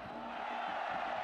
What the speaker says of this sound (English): drawing the oles from the crowd